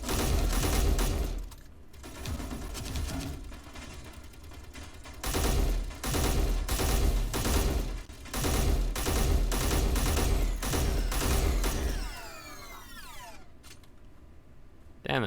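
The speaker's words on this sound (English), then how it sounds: "I'm getting shot!" Sustained automatic gunfire hits the player in Space Engineers, loud dense rattling volleys with short pauses between them, ending in a sweeping whine as the firing fades.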